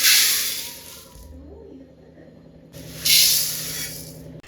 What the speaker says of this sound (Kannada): ಬಾದಾಮಿ ಫ್ರೈ ಮಾಡ್ಕೊತಾ ಇದ್ದೀನಿ ಇವಾಗ